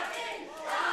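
A wrestling crowd at an amateur show cheers and shouts steadily in support of the wrestler Bobby D, a dense roar that swells louder toward the end.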